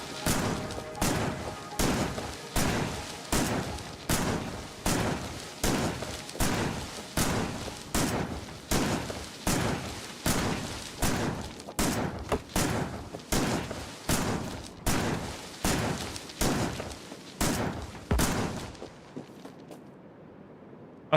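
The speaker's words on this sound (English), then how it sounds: "Isn't it great to just randomly shoot in the forest?" Rapid, steady bursts of gunfire in a forest in Factorio, about twenty sharp shots at a regular pulse over roughly eighteen seconds, loud and close, then fading to quiet.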